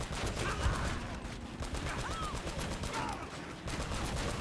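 Turret gunfire in the video game Uncharted: Drake's Fortune rattles in a fast, continuous stream of evenly spaced shots at moderate loudness, with a brief pause midway before resuming.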